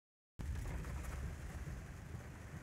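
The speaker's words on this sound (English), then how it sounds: "It's like 3 to 4 summer rainstorms in Florida, back to back to back." Heavy hurricane rain from Hurricane Irma pours steadily in Florida, a dense continuous roar of downpour beginning abruptly after a brief silence and holding loud throughout, with no voices.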